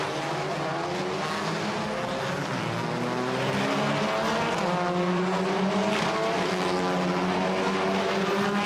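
WTCR touring race cars pull away from the start on a warm, sunny afternoon at Zandvoort in the Netherlands, a dense pack of engines roaring continuously with rising pitch and a brief tire squeal, loud and steady throughout.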